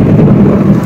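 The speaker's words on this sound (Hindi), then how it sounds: "एत जोरे घड़घड़ी बिजुली मारुची" Loud thunder rumbling during a rainstorm, a heavy low continuous roll close and powerful, with rain and wind noise underneath.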